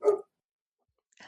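A dog named Mishka gives a short, fairly loud bark, then after about a second of silence a second bark starts, close by with no voices.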